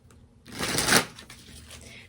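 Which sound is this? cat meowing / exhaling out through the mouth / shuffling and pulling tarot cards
shuffling and pulling tarot cards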